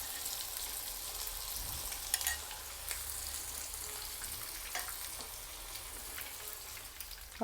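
Chicken pieces deep frying in hot oil for chilli chicken make a continuous bubbling sizzle, close by, with a few soft stirring knocks and pops breaking through the steady frying.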